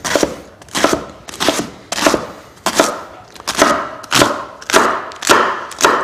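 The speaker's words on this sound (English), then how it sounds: "So we're going to chop up some endives in here." A knife chops endives on a board in a run of about ten loud, evenly spaced thuds, each with a short crisp attack, close and clear with no talk.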